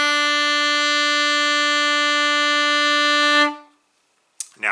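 An alto saxophone holds a single steady B note for about three and a half seconds, rich and harmonic-laden, then cuts off into silence before a brief voice begins at the very end.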